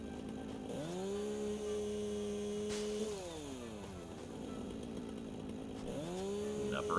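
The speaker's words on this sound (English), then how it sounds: "Just see if it can gather iron with the chainsaw." A chainsaw in the video game Satisfactory, aimed at an iron deposit, revs up and holds a steady buzzing whine, drops back, then revs again near the end. It is fairly close, and no voice is heard.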